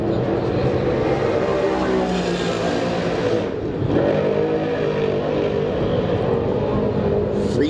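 A small block race car accelerates loudly on a dirt oval during time trials at an Eastern States Weekend championship, its engine roaring steadily and close up, with a brief dip in the middle before the revving climbs again.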